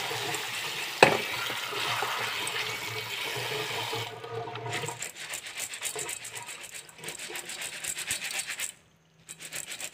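Mung beans are rinsed in a small strainer with holes under running water, producing a continuous rushing, scratchy wash of water and shifting beans, broken by a sharp clack early on and a brief pause near the end.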